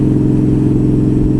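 A motorcycle engine in good running order idles steadily and loudly close by, a smooth even drone with no voices over it.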